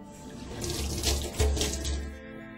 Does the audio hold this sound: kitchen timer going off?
no